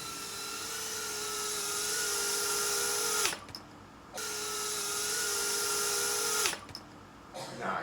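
A TinyWhoop FPV drone flies indoors with a high, steady whine of tiny motors and propellers, loud and close, cutting out abruptly twice as the throttle drops before spinning back up.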